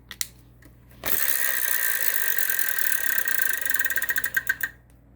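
The Wheel of Fortune wheel is spun on the TV game show. A loud, fast stream of ratcheting clicks slows into separate ticks as the wheel comes to a stop.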